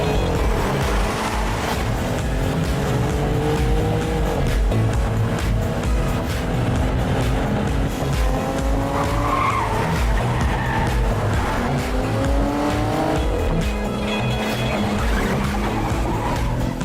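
A car drives hard and skids in an action-film scene, its loud engine rising and falling in pitch over continuous tire noise and squeal, close and sustained with no talking.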